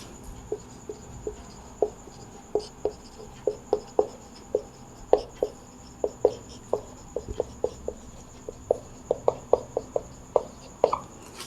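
Chalk or marker tapping and scratching on a board while a maths problem on equal matrices is worked out, a string of short, sharp, close strokes in uneven rhythm over a faint steady hum.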